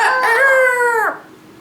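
A person imitates a rooster crowing, voicing one loud, close, drawn-out crow with a rising start and a falling, cut-off end.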